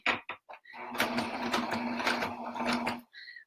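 A sewing machine back stitching along the edge of a burp cloth, running as a close, steady mechanical whir for about two seconds between brief start-and-stop bursts.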